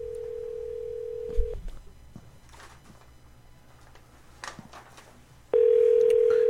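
A phone call being placed: a steady tone cuts off, scattered faint clicks and ticks follow, then a loud continuous tone returns, with low background noise and no clear talking.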